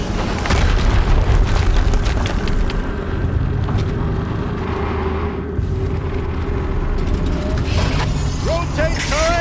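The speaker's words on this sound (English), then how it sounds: "Another explosion." Deep rumbling booms from explosions in Horizon Zero Dawn roll on for several seconds, loud and heavy, with mechanical game sounds and a voice toward the end.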